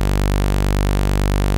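Serum synth bass with oscillators A and B both dropped one octave, a steady, loud sustained low drone holding a single pitch with rich harmonics, alone with no talk.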